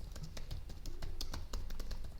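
Rapid, steady typing on a computer keyboard, a string of close, crisp key taps over low background hum with no voice.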